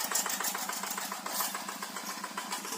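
Yanmar Quick G1000 hand tractor engine chugging steadily while plowing a rice field, a rapid, even putter with a rattly mechanical edge, moderately loud and continuous with no voices.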